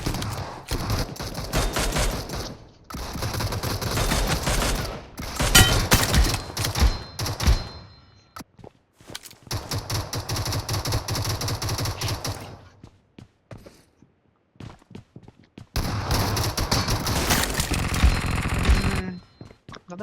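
Rapid bursts of automatic gunfire in the battle royale game BGMI, loud and dense in long volleys separated by brief quiet gaps, with mechanical clicks and weapon handling between bursts.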